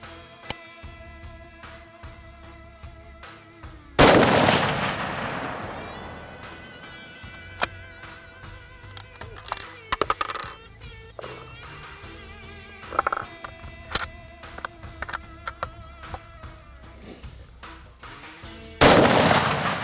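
Two loud, sharp gunshots from a McWhorter 6.5 PRC hunting rifle crack out about fifteen seconds apart, each with a ringing tail over quiet outdoor background noise on a whitetail hunt in Alabama.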